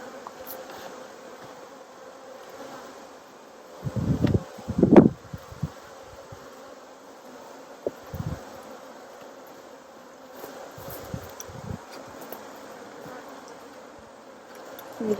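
Honey bees around a hive in Tennessee in October, a soft continuous buzzing drone with occasional louder passes of individual bees near the microphone and light handling knocks, no talking.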